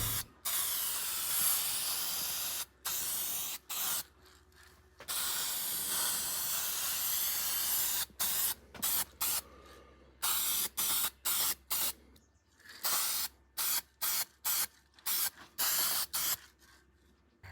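Spray paint hisses in long bursts onto camper van parts for an L300 Express 4x4 build, steady near blasts at first, then short rapid on-off squirts toward the end.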